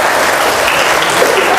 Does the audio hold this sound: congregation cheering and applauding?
yes